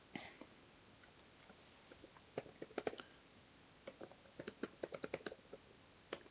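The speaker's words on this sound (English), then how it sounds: "I was typing" Someone typing on a computer keyboard, with quick irregular bursts of light key clicks, close and fairly quiet, and pauses between runs of keystrokes.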